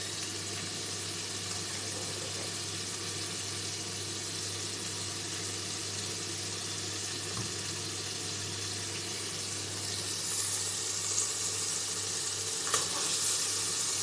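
A mushroom, tomato and beef stew sizzles quietly and steadily in a pot, with a constant soft crackle over a low hum and a slightly louder stretch near the end.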